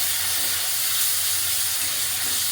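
Onions and masala frying in a pan give off a steady, dense sizzling hiss throughout, with no talking.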